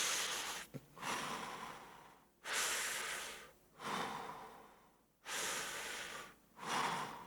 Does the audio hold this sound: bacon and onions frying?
no